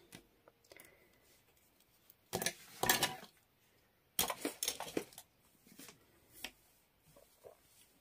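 Scissors snipping straight across fabric fringe for a beach cover-up, heard as a few bright, crisp bursts of cutting amid quiet pauses, close and moderately loud.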